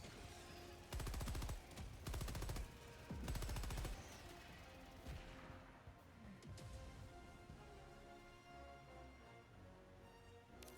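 Automated gun turrets in a video game fire in two or three rapid bursts of clattering shots, then fade to a quiet background with scattered game noises.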